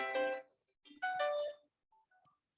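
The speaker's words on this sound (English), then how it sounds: "Phone call coming in on the actual phone." A desk phone rings with an incoming call during a committee meeting, two bright electronic trill bursts followed by faint tonal blips, close and alone without speech.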